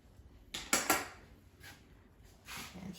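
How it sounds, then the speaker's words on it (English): A metal springform pan being released to free a brownie baked in an air fryer: a few close metallic clicks and clanks in quick succession, then a softer scrape. "This is a springform pan, so I'm just going to release it."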